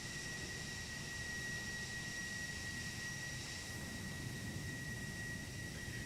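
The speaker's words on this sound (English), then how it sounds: "But this is a fast plane." A fast jet with afterburners in Microsoft Flight Simulator roars steadily as a broad, even engine rush with a thin high whine, fairly quiet and unbroken throughout.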